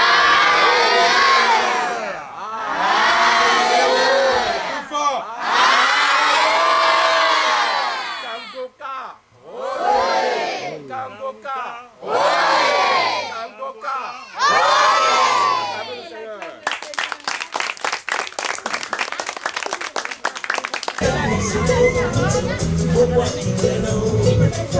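Orphaned children shout together in loud, repeated unison bursts like chanted cheers, a close and energetic group of young voices; a harsh, buzzy noisy passage takes over near the end.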